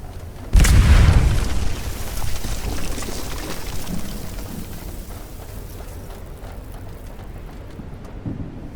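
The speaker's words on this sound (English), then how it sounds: "Blow through the other barricade." Explosive charge blasting through a barricade in Aliens: Dark Descent, one sudden loud deep boom followed by a rumbling, debris-filled tail that fades into quiet ambience.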